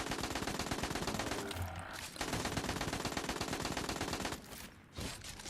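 Rapid, sustained automatic fire from the Insured Yields weapon in Destiny Rising, loud and close, breaking into short bursts with brief pauses between volleys.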